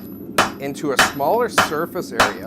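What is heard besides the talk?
rounding hammer striking steel on the anvil horn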